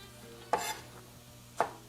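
Two sharp chops of a heavy, sharp kitchen knife through vegetables on a cutting board, spaced about a second apart, close and crisp with no talking, while squash and garbanzo soup is prepared.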